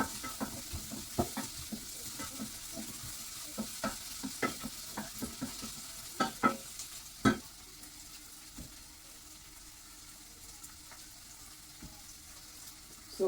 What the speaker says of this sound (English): So I'm going to wait for my onions to turn brown.